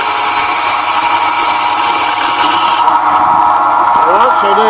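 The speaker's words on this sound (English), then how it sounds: "See, it's drilling, and it's going to drill all the way through this." A power drill with a TCT armour-piercing bit grinds steadily and loudly through material, a harsh continuous whir that thins out partway through as the pitch and load shift.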